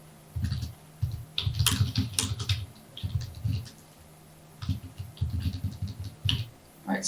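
Brisk bursts of typing on a computer keyboard, clustered clicks in short runs with brief pauses between them, close and fairly loud with no talk over it.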